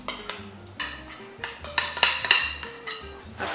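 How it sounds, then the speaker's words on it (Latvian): A spoon spreads thick cheesecake batter over a biscuit-and-nut base in a baking pan, giving irregular metallic scrapes and clinks against the pan, close and moderately loud, with a soft tonal background. "Ar karoti izlīdzinām pa visu formas pamatni"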